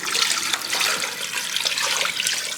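Water pours steadily into a pot for Instant Pot bone broth, a continuous bright splashing rush that fills the whole moment without pause, close and fairly loud.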